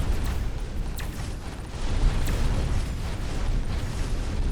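Explosions tearing apart a Dark Fog base in the video game Dyson Sphere Program: a dense, continuous rumble of overlapping blasts and bursts, loud and sustained throughout with no pauses.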